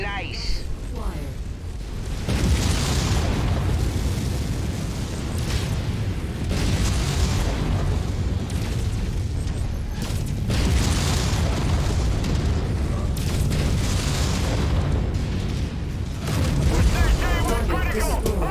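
Video game explosions from MechWarrior 5 as a destroyed mech target blows apart, loud heavy booms and bursts layered over sustained battle noise and rumbling, with spoken voices heard alongside.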